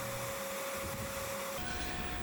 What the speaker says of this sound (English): once they got all nice and clean outside with the vacuum